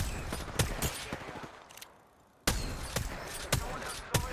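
Gunfire in the Apex Legends video game crackles as sharp, scattered shots in quick bursts, pausing for about a second, then resuming with several more distinct cracks at moderate loudness, with no voices.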